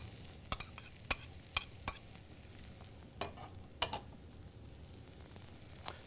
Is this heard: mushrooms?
yes